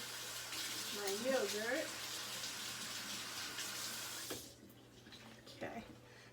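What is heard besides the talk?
tap water running while washing a utensil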